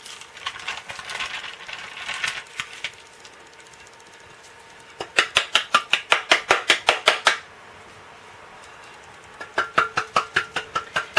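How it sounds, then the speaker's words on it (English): Rhythmic metallic tapping of a cake pan dusted with flour, close and sharp, with a soft scraping patch, then a fast run of about a dozen even knocks and a few more taps at the end. "I'm just going to tap the pan to lightly coat the sides with the flour"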